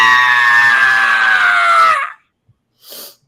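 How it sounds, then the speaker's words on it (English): A winged, fiendish creature with large feathers lets out a loud, piercing, high-pitched screech during a spooky tabletop role-playing session. The cry holds steady for about two seconds, falls slightly, cuts off, then a brief faint burst follows. "this fiendish creature with wings and large feathers into a very high-pitched screech"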